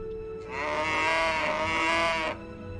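A cow in the farming game My Time at Portia gives one long, drawn-out moo, clear and close, rising out of quiet ambient game sound and then cutting off cleanly.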